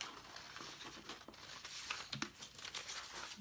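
Scissors snipping through a cardstock template for a painted Christmas moose door hanger, giving soft crinkling cuts and rustles close by, with no talking.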